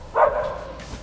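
A stray dog on a street in Alexandria, Egypt gives a single sharp bark that trails off into a short whine, fairly close and alone.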